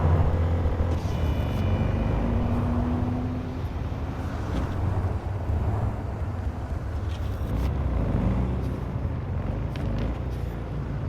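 Car driving in the video game Cyberpunk 2077, a loud constant engine rumble and road rush with occasional higher whines and faint clatter, sustained throughout with no talk.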